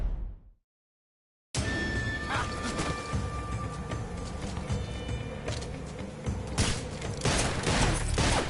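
Gunfire in a Western-style duel shootout from the video game Metal Gear Solid 3 Delta: after a brief silence, a dense burst of shots and clattering impacts runs continuously, loud and close, building into heavier bangs near the end.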